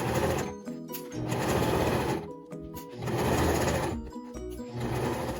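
A sewing machine stitches along the edge of fabric at a 5/8 seam allowance toward a backstitch, running in steady bursts with brief pauses between, close and loud.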